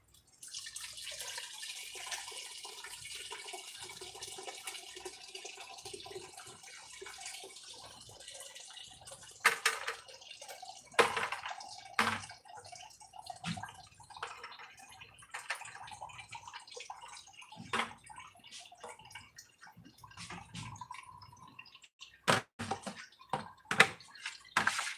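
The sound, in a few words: grape juice pouring into wine cask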